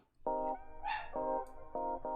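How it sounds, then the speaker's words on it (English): A dog barks in several sharp, close, loud bursts with short pauses between them. "I love how the dog doesn't bark all night, by the way, until I go live."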